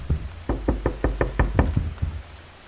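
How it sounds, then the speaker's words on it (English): A sharp wooden door knocked in a quick run of about eight firm raps, close and loud, ending with one lone final knock and then quiet. "by a sharp knock on the door"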